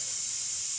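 Steam venting from a pot while making homemade chicken bone stock: a steady, loud, close hiss without break.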